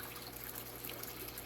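Steady trickling water flow in a home aquarium tank after a water change, a constant soft wash of running liquid with no breaks, fairly faint and close.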